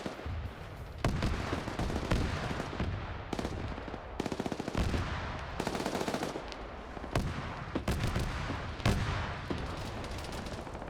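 A barrage of autocannon fire in a player-versus-player video game battle: dense, continuous bursts of rapid heavy shots with sharp recurring cracks, loud and sustained throughout, with no voices.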